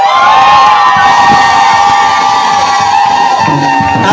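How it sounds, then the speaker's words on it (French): A church congregation at a sermon erupts in loud, sustained shouts and cries of joy, a dense roar of many voices filling the whole stretch with whoops and cheering. "Est-ce que je peux pousser les cris de joie à Jésus?"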